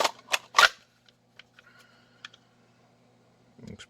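Sharp plastic clicks and clacks as a Glock 17 pistol with a TLR light is pushed into a level 2 hooded holster: several loud snaps up front, then scattered faint taps and a soft rustle at the end.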